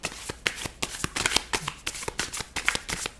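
A deck of tarot cards being shuffled by hand in a continuous run of quick riffling, flapping bursts, close and crisp, with no voice over them.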